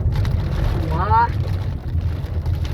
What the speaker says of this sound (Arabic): في الشتا، شوفوا الشتا عباد الله، الشتا زوينه